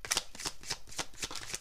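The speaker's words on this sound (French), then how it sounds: "nous allons maintenant voir un tirage de cartes" Tarot cards riffled and shuffled in quick repeated papery bursts, close and soft, with a steady rhythm of flicks over under two seconds.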